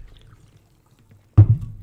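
Polar lime seltzer poured in a short fizzing burst after near silence, close and brief, trailing off quickly.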